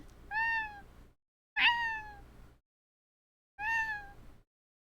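A person imitates a cat's meow three times, each a drawn-out, nasal mew with a falling tone, close and loud, separated by brief silences.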